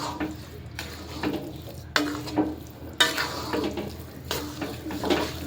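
Melted jaggery is stirred in a pan for gundar paak, giving repeated sticky scraping and swishing strokes at a steady pace with no talk.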